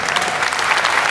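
Applause from an audience member at a tech conference in Romania, a dense steady patter of claps lasting about a second, fairly loud and unbroken, with no voices over it.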